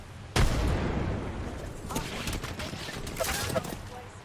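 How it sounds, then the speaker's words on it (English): Gunfire in the battle royale game Apex Legends, a sharp report followed by rapid bursts of shots at mid distance, mixed with game effects and a commentator's voice. "Some shots from behind."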